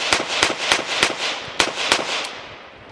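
A Smith & Wesson Model 327 WR revolver fires a fast string of eight sharp, loud shots, evenly spaced about a third of a second apart, each cracking with a brief echo that fades out at the end.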